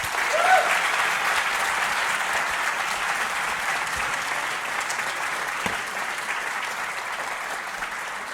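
A lecture audience welcomes Richard Stallman at a free-software talk in Urbana with sustained applause, a steady wash of many hands clapping that gradually eases off.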